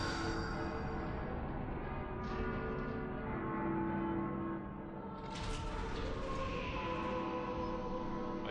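Church-like bells toll within Final Fantasy 13 game music, ringing tones layered over a sustained organ-like pad, fairly quiet and steady with swells of brighter chimes.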